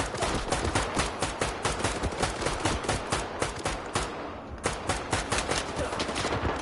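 Rapid bursts of automatic gunfire in S.T.A.L.K.E.R. 2: Heart of Chornobyl on PS5, loud and dense shots crackling nearly continuously with a brief lull before the firing resumes.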